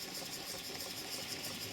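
A miniature twin-cylinder Tangye steam engine runs smoothly, giving a faint, steady, even hiss and whir that stays unchanged throughout.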